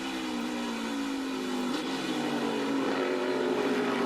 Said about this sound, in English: Kind of lugging that engine a little bit, keeping that rear wheels from spinning with low RPMs